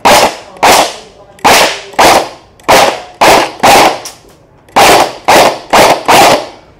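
A toy airsoft gun fires at a target: about eleven sharp, loud, close cracks come in an uneven rhythm of singles and quick pairs, with short gaps between them and no talking.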